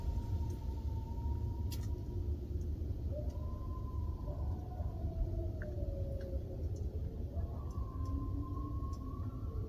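Coyotes howl at night during winter camping in the Canadian cold, thin wavering cries rising and sliding in overlapping voices, faint and distant above a steady low rumble.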